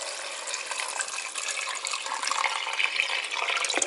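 Clean water pours steadily onto washed chickpeas in a pot with a piece of kombu, a close, continuous splashing stream with no talking.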